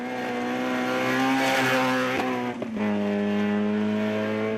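On-board engine roar from a Volkswagen rally car in the 2011 rally, loud and steady, rising and falling as it revs, with a brief dip and a shift near the middle before the engine pulls hard again.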